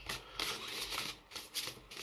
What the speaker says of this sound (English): Just going to give these ones a really good shuffle because I use them